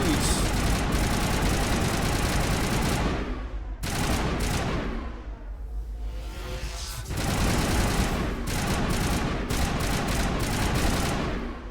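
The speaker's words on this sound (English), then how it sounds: "God, this gun feels so good to use." Dense, sustained gunfire from a weapon in Mass Effect Legendary Edition, rapid bursts running almost throughout with two brief lulls, loud and close amid game effects and some talk.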